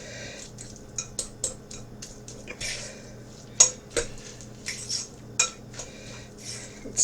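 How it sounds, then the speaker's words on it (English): Fish cake mixture being mixed and shredded in a bowl with cutlery, giving repeated close scraping and clinking strokes in an irregular rhythm over a low background hum. "I'm just going to kind of mix this up and shred it as it kind of goes"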